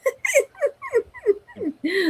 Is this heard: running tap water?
no